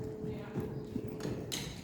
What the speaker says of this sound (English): Whole ride forwards into trot